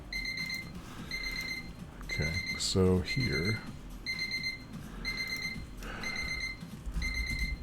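Electronic timer alarm beeping in regular repeated bursts of high double tones, steady and fairly loud, with someone talking briefly over it partway through.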